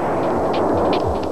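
A high-voltage discharge makes water explode at about 4,800 km/h, hard enough to punch clean 6.5 mm holes through an aluminum plate. It is a loud, dense, continuous roaring blast with rumbling low-end bursts throughout.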